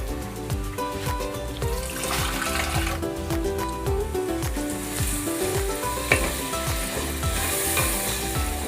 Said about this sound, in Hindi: थोड़ा सा पानी ऐड करूँगी ताकि हमारा मसाला जले ना।